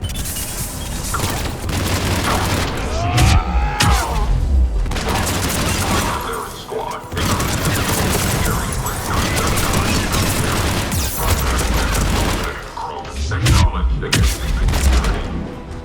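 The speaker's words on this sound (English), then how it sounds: "Taking enemy fire from Pacific Caltech 4." Enemy gunfire in the Mass Effect 3 video game crackles in dense, continuous bursts, mixed with booms, crashes and mechanical clatter, loud and chaotic throughout with brief lulls.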